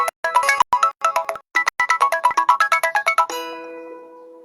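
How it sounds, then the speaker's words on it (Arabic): A phone ringtone plays a rapid melodic run of bright electronic tones in quick pulses, briefly pausing before resuming, then ends in a sustained fading chord; loud and close with no talking. "طب ثواني هرد على التليفون."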